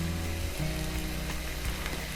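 Chicken sizzles steadily in a hot pan with paprika and other spices, a dense continuous fry with no break and no voices over it.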